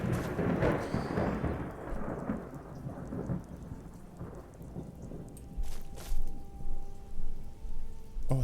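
Thunder rumbles through a rainy thunderstorm in the Skyrim video game, low rolling booms rising and falling over a constant patter of rain.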